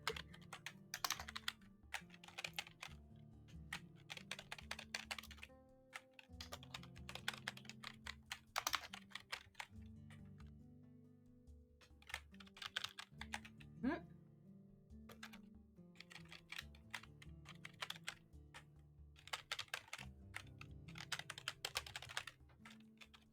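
Rapid typing on a computer keyboard while playing Type King, with fast bursts of clicking keystrokes separated by short pauses, close and steady throughout.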